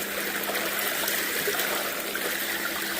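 Steady broadband rush of water flowing over a mat on a small homemade gold sluice Miller table, continuous and close with no pauses.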